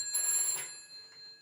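A telephone bell rings in a short, bright trill that fades quickly, heard alone and fairly faint.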